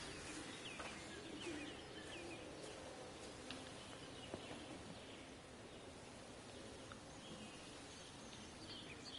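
Birds singing in a garden in the video game Everybody's Gone to the Rapture, scattered faint chirps and calls over a quiet outdoor ambience with soft rustling.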